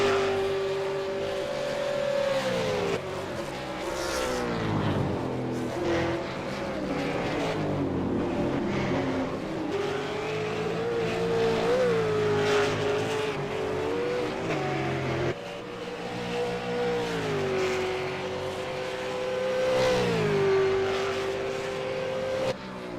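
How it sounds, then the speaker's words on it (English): V8 Supercar race cars lapping the track at Road Atlanta, engines howling loudly through rising and falling revs as cars accelerate, shift and pass close by, one after another with a continuous roar. "16 cars out on track at the moment"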